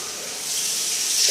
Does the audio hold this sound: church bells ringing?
no